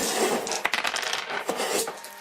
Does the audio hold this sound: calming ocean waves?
no